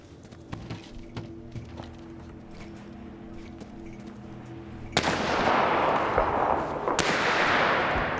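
Pistol gunfire in the video game This War of Mine: two sharp, loud shots, each followed by a sustained burst of broadband noise, breaking in over a low hum and faint ambient ticks.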